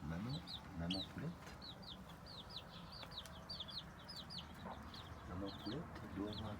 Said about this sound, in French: Maman poulette, elle doit avoir des poussins dessous, non?